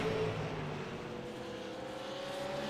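A race car circles the Martinsville oval during a super late model series race, its engine a steady, continuous drone at moderate distance with a faint whine running through it.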